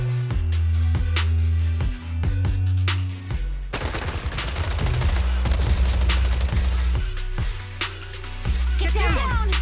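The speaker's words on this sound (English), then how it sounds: "Gunfire? This pattern. Suppressive marching fire." Suppressive marching gunfire in the video game Zenless Zone Zero: sustained, dense rapid-fire bursts that build into a loud continuous barrage over a low, steady musical drone, with brief pauses and a final flurry of shots.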